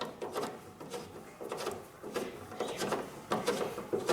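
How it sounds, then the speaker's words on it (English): A ratchet in a tap handle clicks while chasing a thread on a Honda S600 part, giving soft, close clicking and rubbing in irregular bursts roughly every second, with no talk. "That's not the tap or the thread, it's the ratchet in the handle."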